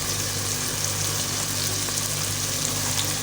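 Turai gosht, ridged gourd with meat, fries in a pan with turmeric added, giving a continuous, dense sizzle that stays even and close throughout with no talking.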